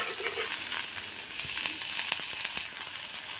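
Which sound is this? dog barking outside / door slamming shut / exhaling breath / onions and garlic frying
onions and garlic frying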